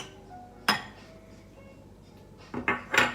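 A utensil mashes canned tuna, potato and an egg in a bowl, making a few sharp clinks and knocks against the bowl: one early hit, then a cluster of scraping clatters near the end, with quiet between.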